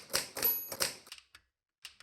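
A 130-year-old Oliver typewriter, an early visible-print machine, clacks through a quick burst of about three hard, close keystrokes with the carriage ringing faintly, then a few lighter taps and a brief pause.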